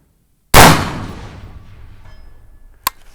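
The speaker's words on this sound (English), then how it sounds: "We'll just shoot this left-hand target right here." A single loud, close gunshot is fired at a small silhouette target, its report ringing out and decaying over a couple of seconds, followed by a faint sharp metallic hit.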